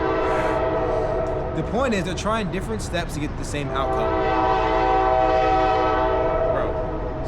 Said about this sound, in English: This train is going crazy right now.